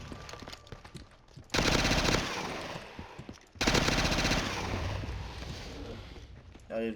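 Bursts of player gunfire in a Simpsons zombie video game, two loud sustained volleys of rapid shots separated by a brief pause, with quieter game sounds between them.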